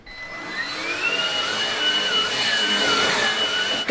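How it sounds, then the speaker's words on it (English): Small handheld mini vacuum cleaner running indoors, a close steady whine with a wavering high motor pitch that shifts as it moves over surfaces, alone without talk. "Guys, I got a mini vacuum. Isn't it cute?"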